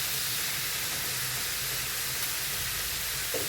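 Loud, steady sizzle of meat searing in a hot pan on high heat while it is stirred, with faint scraping under the continuous hiss and no voices.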